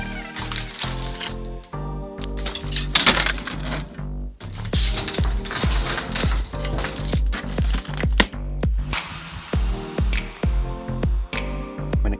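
Timber lengths are cut for garden steps with a power saw: loud, close, gritty bursts of cutting noise with clattering wood, several passes with short breaks between them, and no talk.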